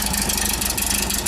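A motorcycle with a 4-into-1 exhaust idles steadily close by, a continuous low rumble with a quick, even pulsing throb and a faint mechanical rattle, no voices.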